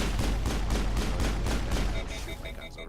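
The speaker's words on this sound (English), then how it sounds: "I'm just gonna shoot blind until nothing's shooting back at me" Rapid, repeated gunfire in the sci-fi shooter video game Mass Effect, a steady run of close, loud shots before electronic beeps and tones take over near the end.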